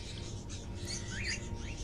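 Crows cawing in the video game Indigo Prophecy, a few rising calls heard over a steady low ambient hum, fairly faint and at a middle distance.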